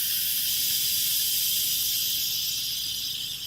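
Pressurized steam hissing steadily and loudly from a truck's sleeper-cab appliance, a continuous broadband rush with no break or talk.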